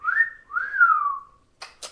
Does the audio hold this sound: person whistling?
yes